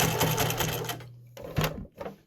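A sewing machine stitching the edge of fabric with black thread runs in a fast, close mechanical rattle, stops briefly, then gives two shorter bursts of stitching.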